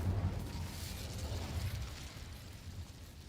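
An Incendio fire spell is cast in the video game Hogwarts Legacy, a low rumbling burst of flame that starts strong and slowly fades over a few seconds.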